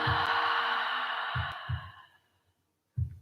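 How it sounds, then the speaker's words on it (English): A long, breathy exhale through an open mouth during a yoga session rushes out loudly and fades over about two seconds, followed by soft low thumps and the start of another breath. "Open your mouth, exhale."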